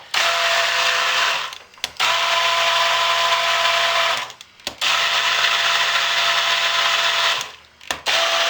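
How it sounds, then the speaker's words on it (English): A stick blender whirs loudly and steadily through a batch of hot process soap, cutting out briefly three times between long continuous bursts, with no talking. "So we're just going to keep stick blending it."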